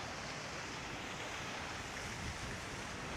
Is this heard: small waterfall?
yes